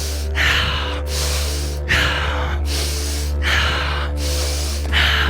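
Forceful rhythmic breathing in a hybrid breathwork exercise, about five strong, close breath cycles of sharp inhales and exhales over a steady low hum.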